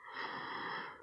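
One long, steady breath is drawn in deeply through the airway during a yoga breathing exercise, close and soft with a slight wheezy rasp, lasting about a second with no talking.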